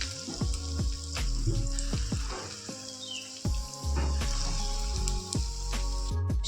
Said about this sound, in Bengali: বাকি যেগুলো আছে সেইগুলোকেও আমি একই রকম করে ভেজে কমপ্লিট